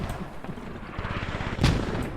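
Mortar and gunfire in a military video game go off in a rapid series of close reports, with a louder blast near the end, and no talk over them.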